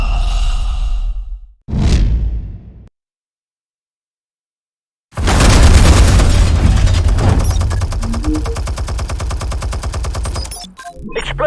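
Explosives detonating in Batman: The Telltale Series: a heavy burst of crackling, rapid-fire blasts that fades, a second of silence, then a long, loud, rumbling barrage of explosions with scattered crackles continuing to the end.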